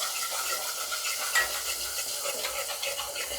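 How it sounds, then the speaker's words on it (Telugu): A utensil stirs potato curry with ginger paste in a pan, producing soft continuous scraping and gentle sizzling, close and fairly quiet, with no voices. "ఇంకా మిక్స్ చేద్దాం."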